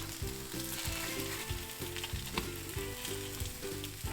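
Arepas fry in a pan with a steady, close sizzle that runs unbroken throughout, with soft stirring or shifting sounds and no talking.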